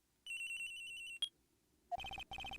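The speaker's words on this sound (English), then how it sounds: "At around 10:30, I received a call on my cell phone." A cell phone ringtone from Phoenix Wright: Ace Attorney sounds as a series of quick electronic beeps, a sharp click, then two more bursts of chirping pulses, clear and alone against near silence.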